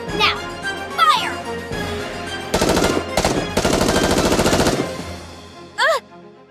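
Gunfire in the video game Goddess of Victory: Nikke. It comes as rapid, loud machine-gun bursts in several rattling volleys, mixed with game voices and whooshing effects.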